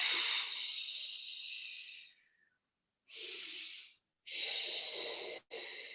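A Pilates instructor's breathing during an osteoporosis class exercise: a long, close, hissing exhale, a pause, then shorter audible breaths in and out, airy and steady with no talking.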